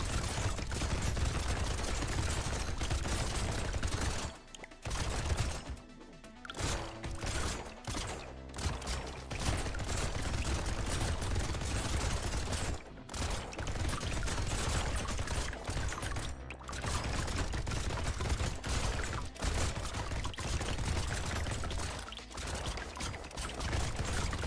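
Sustained rapid chain gun fire in a first-person shooter video game, dense and loud, continuing in long bursts with brief pauses between them.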